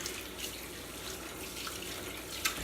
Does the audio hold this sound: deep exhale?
no